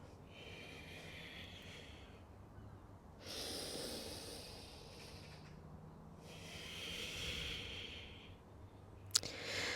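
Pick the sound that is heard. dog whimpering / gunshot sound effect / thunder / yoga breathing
yoga breathing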